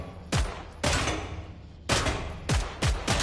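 Starter commando gun in Killing Floor 3 fires in sharp, loud bursts with short gaps between them, each volley a crackle of rapid shots.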